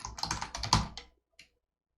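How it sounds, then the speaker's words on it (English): Fast, steady typing on a computer keyboard, a dense burst of close clicks lasting about a second, then a brief pause and one final keystroke, with no voices. "we're going to type thank you"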